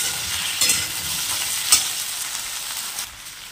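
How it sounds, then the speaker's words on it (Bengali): Onions sizzle steadily in a pan with ginger and garlic added, a bright continuous frying hiss with a couple of brief clinks from stirring. "পেঁয়াজ দিয়ে পেঁয়াজ লাল করে চাপিয়েছি, আর একটু আদা রসুন দিয়ে দিই"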